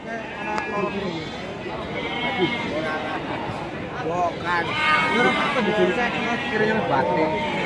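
Sheep bleat over and over at Wage Bumayu livestock market, a crowded chorus of overlapping calls under steady market babble and nearby voices.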